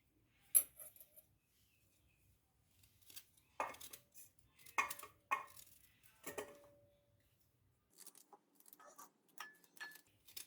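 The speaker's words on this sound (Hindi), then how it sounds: "ऐसे इसके छोटे छोटे पीसेस काट लेंगे और एक बोल में रखते जाएंगे" Knife cutting a guava into small pieces for guava candy, heard as sparse, sharp clicks and taps against a board or bowl with quiet gaps between strokes, close and fairly soft, no talking.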